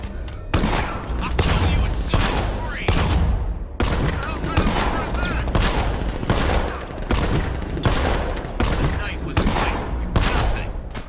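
Rapid, sustained volleys of gunfire erupt in the Batman: Arkham Knight video game, loud repeated bursts and booms chopping through the scene, with voices heard between the shots.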